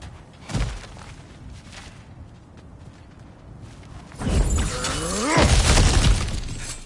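Cracked ground is smashed in God of War Ragnarok: a sharp crunch early on, then a loud, sustained crumbling and shattering of rock and debris that rumbles on for several seconds.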